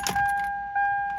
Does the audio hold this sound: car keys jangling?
yes